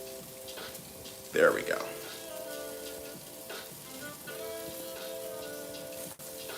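Butter sizzles steadily in a pan as food sautés, a soft continuous frying hiss with a few stirring clinks, while a person speaks briefly nearby.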